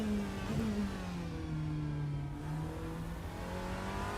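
Porsche 963 LMDh hypercar engine in the Rennsport racing game, held at high revs with a steady, droning tone that dips slightly and climbs again, heard from onboard with no talk.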